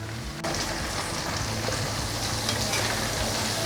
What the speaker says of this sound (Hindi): चिकन फ्राई हो चुका है और अब मैं इसे रीफ्राई करूँगी।